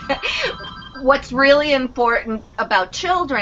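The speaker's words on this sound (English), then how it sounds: "I'm sorry about the phone." A telephone rings in a room, its electronic trill sitting beneath someone talking steadily, moderately near.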